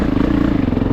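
A 450 dirt bike engine revs loud and close on single track, its steady, throbbing mid-pitched drone pulsing rapidly with a mechanical clatter and no voices over it.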